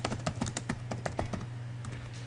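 Fingers type on a computer keyboard in quick, irregular bursts of clicky keystrokes, close up, easing into a short pause before a few more taps, over a faint steady hum.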